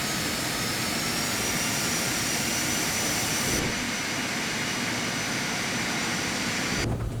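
Steady, loud roar of a Phenom 300's jet engines during the takeoff roll in X-Plane 11, a dense continuous whine and rumble with no talking.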